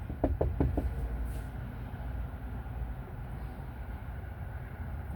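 Several sharp knocks on a locked door come in a quick cluster near the start, followed by a steady low rumble of background noise with no answer.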